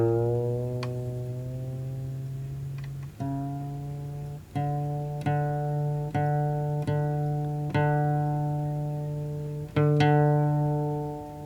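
A guitar's fifth string is plucked repeatedly at the fifth fret on a single D note for tuning, each pluck ringing out and fading before the next, at a steady, unhurried pace with no talking.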